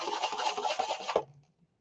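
Brush flicking white paint for a snow effect, a soft, scratchy spatter that runs steadily for about a second and then stops, faint and close.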